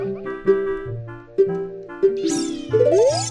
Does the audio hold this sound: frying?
no